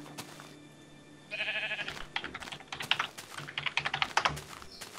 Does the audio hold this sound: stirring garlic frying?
no